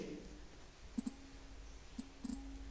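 A handful of sharp computer mouse clicks land while panning and zooming in video editing software, in a pair, a single, then a quick double, each crisp and close against a quiet background.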